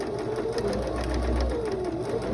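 A sewing machine with a size 16 needle and all-purpose polyester thread stitches a denim seam in a continuous, steady mechanical hum close to the microphone.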